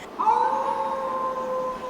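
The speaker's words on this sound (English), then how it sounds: "A coyote howled in the distance." A coyote gives one long, thin, wavering howl that rises and then holds steady, faint and far off against a quiet background.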